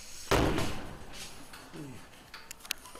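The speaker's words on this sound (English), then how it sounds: "And they're trying to open the door." A door slams in a scary scene with a sudden loud broadband thud, then a fading rumble, a brief muffled creak and a few faint ticks and knocks afterward.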